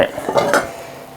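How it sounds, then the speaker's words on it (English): Heavy iron lid set back onto a Dutch oven holding bread, a short clanking knock of metal on metal, close and fairly loud, fading into room noise. "lid back on and in the oven"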